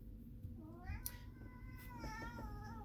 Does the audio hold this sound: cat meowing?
yes